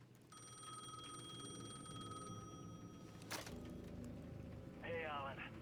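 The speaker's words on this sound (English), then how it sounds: "The payphone at the edge of the plaza was ringing again." Payphone at the edge of a plaza in the video game Alan Wake II rings with a steady electronic tone, then stops abruptly as it is picked up, over low rumbling game ambience.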